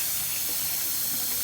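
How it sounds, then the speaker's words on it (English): Tap water runs steadily into a sink while dyed Tamiya Top Force radio-control car wheels are dipped, a constant close hissing rush with no talk. "then I'm going to run the water which is set up"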